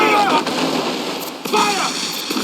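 Ship cannons firing during a naval battle in Assassin's Creed Freedom Cry, several sharp booming shots in quick succession over raging combat noise, with shouted commands between them.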